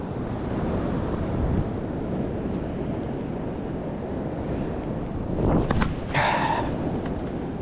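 Ocean waves surging at high tide on the Great Ocean Road near Jump Rock, a loud continuous roar of surf with heavy wind buffeting the microphone and a brief splash near the end.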